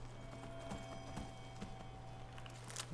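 Horse hooves clip-clopping in the video game Requiem, a steady rhythm of light knocking steps at moderate distance over a constant low hum, fairly quiet.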